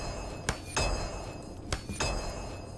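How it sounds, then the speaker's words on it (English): Repairing with a hammer in the video game Return to Moria: two pairs of sharp metallic strikes ring out over a steady background, each pair a quick double clink, close and fairly loud. "We should always be repairing with the highest level hammer in this game."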